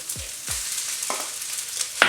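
Eggs hit a hot pan of leftover fried rice with sausage and pineapple, giving a steady close sizzle with a few quick scraping strokes of a spatula, no talking.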